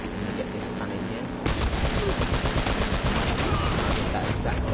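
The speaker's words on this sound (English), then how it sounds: "And you get this cannon here." Cannon turret firing in Uncharted: Drake's Fortune, a rapid burst of loud, evenly spaced booming shots that starts abruptly and hammers on over continuous game noise.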